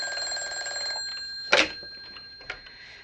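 An old telephone rings with a bright trilling bell for about a second in a 1954 radio drama setting, followed by two sharp clunks, likely the receiver being handled.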